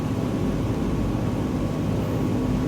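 Steady, loud broadband drone of a simulated airplane engine in Microsoft Flight Simulator 2020, flying near Glacier Park in Montana, a constant, unbroken hum with no voices.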